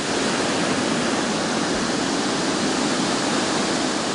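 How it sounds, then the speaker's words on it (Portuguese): Curimataí waterfall in the Serra de Minas, water pouring down a marble wall, a loud, steady broadband roar heard up close with no other sounds. "Outra atração do lugar é a Cachoeira de Curimataí, na Serra de Minas."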